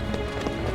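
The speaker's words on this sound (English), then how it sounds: "The footsteps lead here" Footsteps in the fighting game Soul Calibur VI echo through a back alley, a quick run of soft, rhythmic clopping steps over a steady ambient bed.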